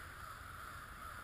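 A flock of crows keeps up a steady, faint stream of cawing from somewhere overhead as they mob a hawk or owl, with no voices in between.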